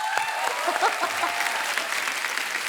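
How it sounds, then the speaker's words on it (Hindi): A studio audience on an Indian comedy show bursts into loud, sustained clapping and cheering that fills the whole moment, with no voices on top. "उरी पिक्चर में क्या काम के लिए विक्की, जोरदार ताली हो जाए"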